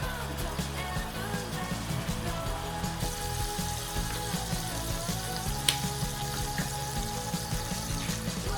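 Enoki mushrooms cooking in a pan give off a steady, even sizzle and crackle that continues without a break, close and moderately loud, with no voices over it.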